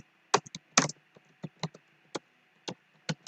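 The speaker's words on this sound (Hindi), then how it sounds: "आपको गूगल पे टाइप करना है योगा सर्टिफिकेशन बोर्ड" Typing on a computer keyboard, irregular bursts of crisp close key clicks with short pauses between them, about a dozen strokes in quiet surroundings.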